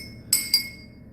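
Crushed ice clinks into a glass while a home cocktail is being made, giving two crisp, bright clinks in quick succession over a quiet background.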